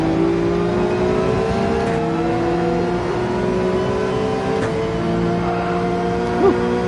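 Porsche 911 race car in a racing game at Deep Forest, engine pulling hard under acceleration with a steady, loud, rising drone of harmonics held throughout, alone without speech.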